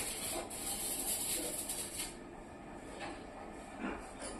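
A packaging machine runs its cutting side, giving a continuous close mechanical rubbing and whirring with faint periodic clicks and swishes, no voices.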